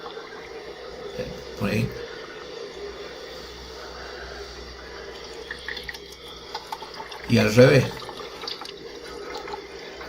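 Water sloshes and trickles inside a transparent Pythagorean theorem model as it shifts between the squares on the legs and the hypotenuse, a quiet continuous flow with two louder gurgling surges, under a man's speech.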